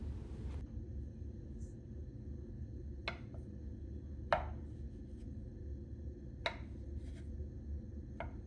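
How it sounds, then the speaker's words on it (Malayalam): Knife cutting potato into small pieces on a board: a few sharp, separate chops spaced a second or two apart, fairly close, over a steady low room hum. "ഇനി ഇത് സ്മോൾ പീസസ് ആയിട്ട് ഇങ്ങനെ കട്ട് ചെയ്തിട്ടെടുക്കുക"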